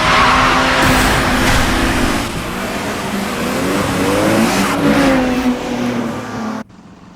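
Race cars launch together at the start of a second run, engines revving hard and rising in pitch with some tire squeal, loud and close, then the roar drops away abruptly at the end.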